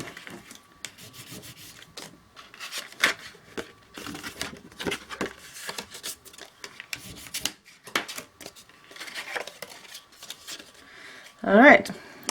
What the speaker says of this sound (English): Okay, fold these as well.